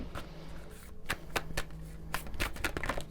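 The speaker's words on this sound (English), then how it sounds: "I'm going to shuffle properly" Tarot and oracle cards shuffled by hand in a quiet room, a string of soft papery riffles and flicks with brief pauses between bursts, close and fairly quiet.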